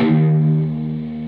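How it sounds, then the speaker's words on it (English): A single sustained electric guitar note at the 7th fret of the A string rings out with a slight wavering vibrato, loud and close, fading gently. "you're going to play a vibrato here at the 7th fret of the A"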